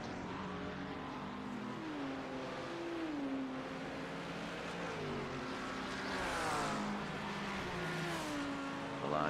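GT3 race car engines in a sim racing league game, a continuous loud whining drone whose pitch climbs and drops through gear shifts as cars jostle for position, with no talking.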